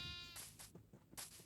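Minecraft sheep bleating in the video game, a few short wavering bleats in quick succession, fairly clear with no talking over them.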